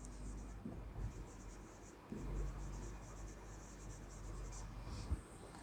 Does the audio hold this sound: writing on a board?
yes